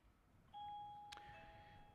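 A single clear bell tone rings out and sustains, faint and somewhat distant, in an adult Sunday morning Bible class, with a brief knock partway through and no talking.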